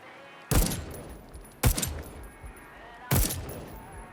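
Three loud, sharp gunshots from an old-fashioned firearm in the video game Deathloop, spaced about a second apart, each followed by a brief ringing tail.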